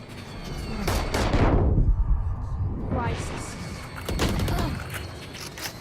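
Gunfire in the Valorant video game during a tournament match, two loud swelling bursts of rapid shots with heavy thumping impacts, separated by a brief quieter gap, under ongoing casting chatter.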